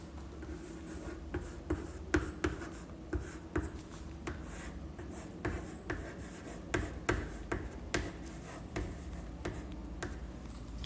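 Handwriting an answer on paper: a nearby pen makes soft, irregular scratches and ticking taps in quick bursts, steady and quiet throughout.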